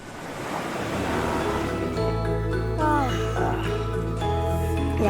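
Ocean waves at Tanjung An beach on Lombok make a broad, continuous wash of surf with gusty wind noise. A steady low rumble runs underneath.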